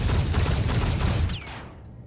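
Rapid video-game gunfire from a double-tap modded controller, a dense burst of shots that cuts off after about a second and a half, leaving a brief fading tail.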